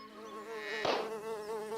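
A housefly buzzes steadily close by, a droning hum with a brief louder burst partway through, and no voices.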